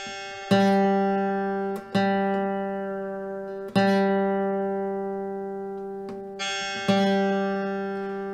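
An open G string on a guitar is plucked several times, each note ringing and decaying before the next pick, close and clear with no talking.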